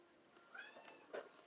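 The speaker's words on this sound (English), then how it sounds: "Stop yelling, kitty." A house cat meows at close range, two short cries with a clear rising and falling pitch, separated by a brief pause, over a quiet room.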